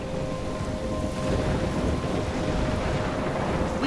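Thunderstorm with heavy rain in the video game Life Is Strange, a dense continuous roar of rainfall and wind with low rumbling, loud and unbroken throughout.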